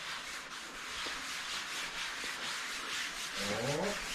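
Something is lightly rubbed in by hand with steady soft scrubbing strokes, close and quiet, in a repeated back-and-forth rhythm.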